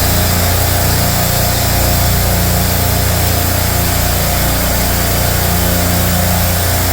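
Low-temperature refrigeration rack compressors run steadily, giving off a loud, constant mechanical drone with a deep hum underneath and broadband whirring above. The sound stays unchanged from start to finish, with no talking.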